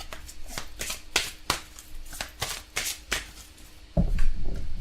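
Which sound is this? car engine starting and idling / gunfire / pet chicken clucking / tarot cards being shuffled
tarot cards being shuffled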